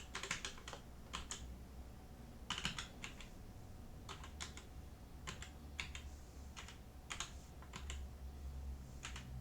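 Someone types on a computer keyboard in short clusters of close, sharp keystrokes separated by brief pauses, steady and fairly quiet against a low background hum.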